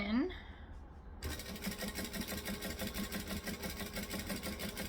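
A sewing machine stitches and back-stitches a tote bag, starting after a short knock and running a steady, fast mechanical whir with rhythmic needle clatter, close and even throughout.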